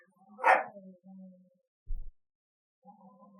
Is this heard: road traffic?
no